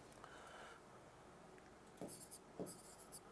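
A teacher writing out an example during a Hindi lesson makes faint scratchy strokes against quiet room noise, with a couple of brief, slightly clearer scrapes near the end.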